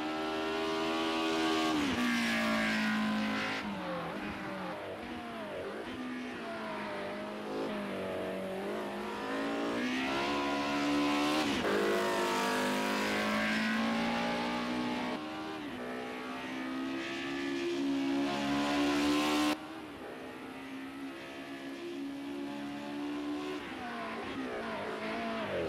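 Race car engines in a PlayStation racing game, loud and continuous, with rising and falling revs through gear changes and a few abrupt cuts between cars, no voice over the engines.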